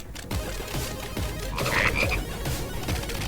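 Frogs croak in a Final Fantasy VII Rebirth game scene, a steady low croaking chorus mixed with ambient game noise and a brief chirpy accent in the middle.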